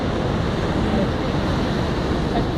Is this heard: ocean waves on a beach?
yes